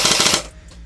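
A Double Eagle M917 airsoft electric gun with a binary trigger fires a fast burst of about six sharp, rapid shots, close and loud, then stops.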